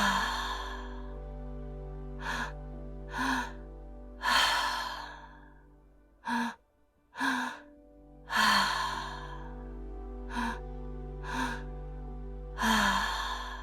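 Slow breaths are drawn in and pushed out through the mouth in a calm breathwork session, giving several soft, airy exhales with pauses between them. The breaths sound close and gentle over a low steady hum.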